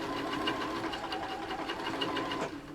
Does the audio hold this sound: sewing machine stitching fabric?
yes